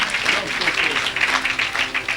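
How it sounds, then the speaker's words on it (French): An audience at an evangelist's meeting applauds and cheers in a dense, continuous wash of clapping with voices mixed in. "Je croyais que tu allais acclamer."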